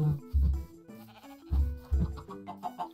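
Sheep in Minecraft bleat several times in short, wavering calls, close and clear, with a few quieter trailing bleats toward the end.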